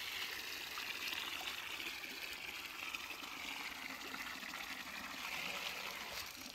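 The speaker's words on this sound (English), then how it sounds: "Yay, water." Steady water pours and trickles continuously in the video game Wanderstop, a soft even stream with no break, fairly quiet and alone.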